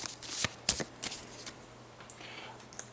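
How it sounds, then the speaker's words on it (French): A deck of Harry Potter Hogwarts Battle game cards is shuffled close by, with quick papery flicks and riffles in short uneven bursts and no talking. "On les mélange, on forme une pioche."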